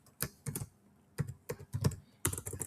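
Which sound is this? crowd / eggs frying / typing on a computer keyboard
typing on a computer keyboard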